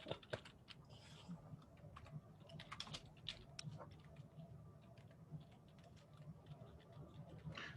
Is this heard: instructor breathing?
no